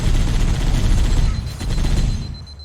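Sustained turret and sniper rifle fire in Halo: Combat Evolved, a dense, loud barrage of overlapping shots with a deep rumble that continues throughout, no voices.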